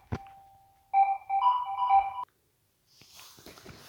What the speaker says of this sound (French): Saleté de téléphone.